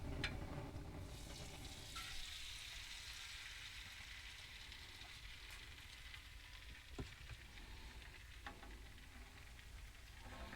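Farm-fresh eggs spread thin and kept moving in a pan give off a steady, broad frying sizzle with faint stirring scrapes, close by and continuous without any talk.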